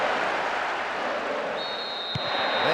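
Crowd cheering after a goal in the PES 2009 football video game, a steady broadband roar that holds throughout with no voices standing out, and a faint tone rising near the end.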